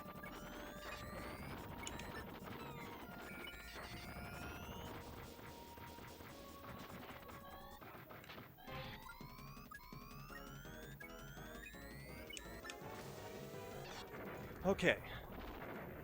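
Stockpiled bombs go off in the arcade-style mech game Metal Combat: Falcon's Revenge, bursts and crashes layered over chirpy synthesized effects and music, with a couple of sharp blasts near the end and brief talk at the start.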